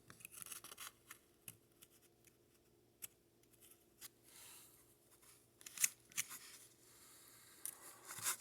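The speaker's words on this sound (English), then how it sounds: "So we take and cut this off straight." Material cut straight with scissors for model truck-terminal steps, heard as sparse, faint snips and scraping rustles spread irregularly across the stretch, close by and quiet, with no talk.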